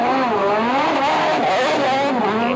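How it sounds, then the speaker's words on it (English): Super GT GT500 race cars accelerate hard out of the pits at a 2017 Japan Super GT round. Their engines rise and shift in loud overlapping howls that stay close and continuous, with no voices over them. "Some good sound of the cars leaving the pits there"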